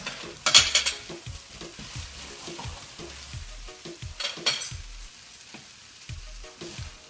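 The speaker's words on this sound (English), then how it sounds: "So you just let that wilt a little bit, you mix it around, wilt it even more." Wilting greens stirred around a hot frying pan for an Italian rice and chicken dish, with steady sizzling and a rhythmic scrape of a utensil against the pan, plus a few louder clanks and bursts of spatter, close and without talk.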